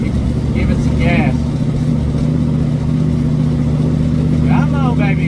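A Plymouth Satellite's engine, struggling and bogging under throttle, drones loud and close as it runs on, with a voice talking briefly over it.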